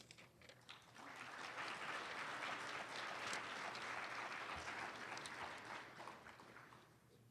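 Steady audience applause for award nominees at a 2013 student leadership banquet, a sustained clapping crowd that swells after the first second, holds for several seconds and eases toward the end.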